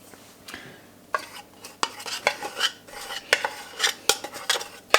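A utensil stirs flan ingredients, including unsweetened condensed milk and a pinch of salt, in a bowl, with repeated close clinks and scrapes against the bowl's sides in an irregular rhythm.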